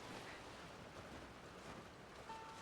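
Water waves wash and surge in a Genshin Impact game scene, a steady broadband rush with no clear breaks, continuous and fairly close throughout, with a faint tonal sound near the end.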